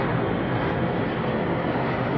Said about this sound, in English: look at that plane going by